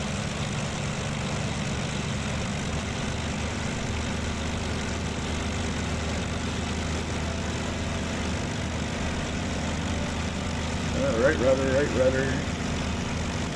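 A warbird's piston propeller engine drones steadily and loudly in Microsoft Flight Simulator during a takeoff run in North Africa, with a brief spoken instruction near the end.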